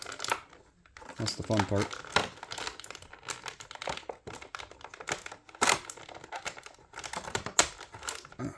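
Plastic blister packaging crinkling and crackling in close bursts while a 1988 Remastered TMNT Leonardo figure is unboxed, with scattered snips and rustles under intermittent talk.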